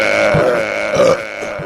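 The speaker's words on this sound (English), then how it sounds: "An epic burp." A long, loud, deep burp rumbles close to the microphone for nearly two seconds, wavering in pitch with a slight bleating quality, alone with no talking over it.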